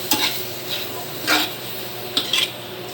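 Lean pork from the rump cooks in a creamy mushroom sauce while a spoon scrapes and stirs the pan in a few separate bursts, close up over a soft bubbling simmer, with no one talking.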